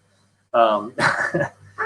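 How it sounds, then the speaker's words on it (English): A dog barks close by in a few quick, loud yaps and woofs after a moment of silence, with a whiny edge to the calls. "Shut up, dog."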